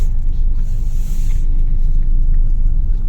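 A car turning on city streets while searching for a parking spot, heard from inside as a steady loud low engine and road rumble with no talking.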